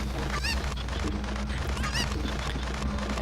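Chicken clucking in the video game Zelda: Ocarina of Time, a few short squawky cries over a steady game background hum.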